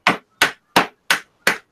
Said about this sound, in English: it does come off if you hit it hard enough with a hammer